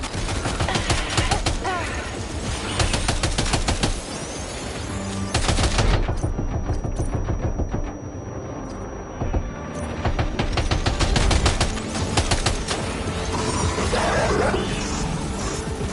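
Rapid gunfire erupts in Death Stranding 2: On the Beach, dense bursts of automatic weapons and overlapping shots roaring loudly almost throughout, with brief lulls and voices mixed under the shooting.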